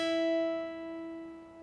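One guitar note is picked at the 5th fret of the B string and left to ring, sustaining cleanly and slowly fading on its own with no voice over it.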